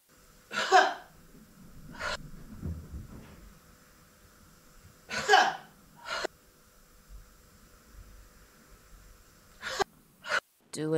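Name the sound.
forceful exhaling breaths during a breathing exercise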